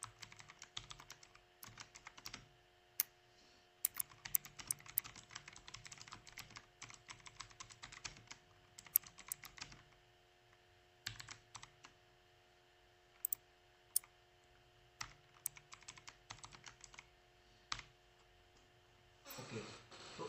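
Steady typing of program code on a computer keyboard, long runs of close, crisp keystrokes with sharper taps and brief pauses throughout, over a faint electrical hum and no voices.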